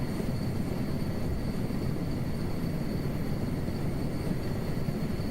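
A heavy rotorcraft in Microsoft Flight Simulator 2024 drones steadily through takeoff, a dense broadband rotor and turbine roar with a faint high whine running unchanged throughout, no voices.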